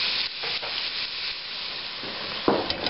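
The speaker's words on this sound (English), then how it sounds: "We're going to fry this off and break it down" Pork sausage fries in a pan for stuffed bell peppers, giving a dense, steady sizzle with scraping and stirring noises as the meat is broken up, and a sharper clatter near the end.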